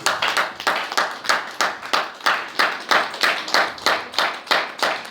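Congregation claps in a church, steady rhythmic hand clapping in even beats, close and fairly loud with no voices over it.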